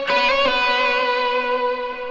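Electric guitar played through Helix effects slides back and forth at the 12th fret of the B string, a bright, sustained chord-like tone with stacked harmonics that rings steadily and slowly fades, loud and close with no talking.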